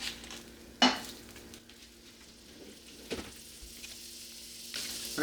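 About two tablespoons of butter sizzle in a frying pan with a soft, steady crackle, broken by a few sharp clinks of a utensil against the pan.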